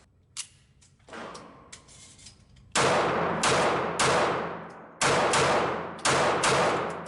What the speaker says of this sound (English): Let's try a little rapid fire.